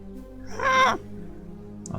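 A squawking call from the character Grin 2 in the video game SKALD: Against the Black Priory, one loud, harsh, rising cry lasting about half a second over a steady, quiet game music bed.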